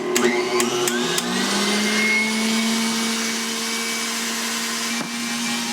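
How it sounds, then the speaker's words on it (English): An electric mixer whipping egg whites with cream of tartar, a steady close motor whine that starts with a few clicks and shifting pitch, then settles into a continuous high-pitched hum. "And get that going on the mixer here"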